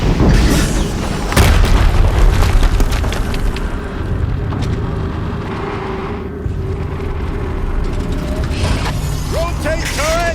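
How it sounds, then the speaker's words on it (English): A deep explosion booms in the Horizon Zero Dawn video game at Maker's End, a loud, heavy blast near the start followed by rumbling mechanical clatter and softer bursts later on. "Another explosion."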